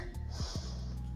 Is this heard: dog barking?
no